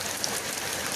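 Rain falls in a steady, dense hiss of drops on surfaces, an even wash of sound over a brief second with no voices.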